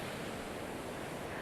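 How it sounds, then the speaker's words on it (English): Ocean surf at Mount Maunganui beach in New Zealand, a steady broad wash of breaking waves with no distinct individual crashes, brief and fairly soft. "Mount Maunganui. One of New Zealand's best surf beaches."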